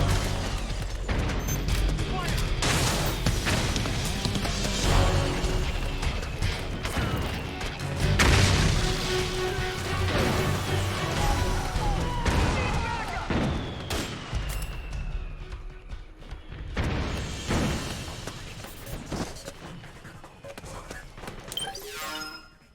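Sustained gunfire and blasts during a Metal Gear Solid 4 battle, with dense overlapping shots, mechanical clatter and booming explosions rolling on continuously before tapering off at the end.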